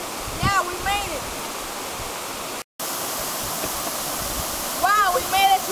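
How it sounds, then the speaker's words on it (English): Iguazu Falls in Brazil roars as a broad, continuous wash of falling water, loud and steady throughout, with faint voices and birdlike chirps briefly rising over it. "Wow, we made it to Brazil, to the Iguazu Falls. It's the world's largest waterfall."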